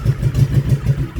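A Honda Shadow Sabre motorcycle engine idles close by, a steady low throb with a lumpy, pulsing rhythm throughout, no voices over it.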